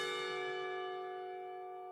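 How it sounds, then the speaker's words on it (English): A single clock tower bell in the Katawa Shoujo video game rings one soft, struck tone whose rich ringing overtones slowly fade away, heard faint and alone. "The clock tower bells ring, signaling the end of the period."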